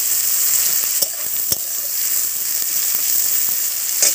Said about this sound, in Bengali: দিয়ে রাখা কাঁচা লঙ্কা দিয়ে এবার পেঁয়াজটাকে খুব ভালো করে ভাজবো